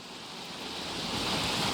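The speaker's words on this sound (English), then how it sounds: "I'm not even in the open ocean yet, and I'm already getting like huge waves and everything" Ocean waves in the Valheim video game, a steady broad surf wash that slowly swells louder, continuous and enveloping with no talk.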